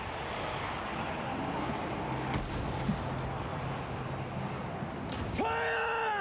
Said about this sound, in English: We get some mortars in there.